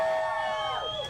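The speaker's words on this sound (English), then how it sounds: "I want to hear that big crowd of mine." A crowd at a Texas primary election night campaign event in Uvalde cheers and whoops loudly and steadily, with no break, over a short stretch.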